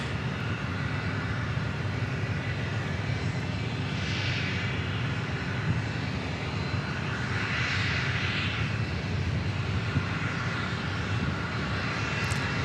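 Steady jet engine roar from a JetSuiteX aircraft at Dallas Love Field, loud and continuous throughout with a broad rushing hiss and no talk.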